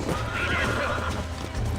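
A horse in the video game Red Dead Redemption, played on Nintendo Switch, whinnies loudly and close, over a dense, continuous in-game soundscape of hooves and movement.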